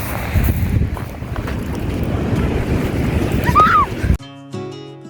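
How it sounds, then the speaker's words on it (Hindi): Strong, high ocean waves roll onto a beach at night, heard as a loud continuous rush of surf buried in heavy wind buffeting the microphone, cutting off abruptly near the end. "पानी की वेव्स बहुत तेज़ थी और ऊंची ऊंची वेव्स थी"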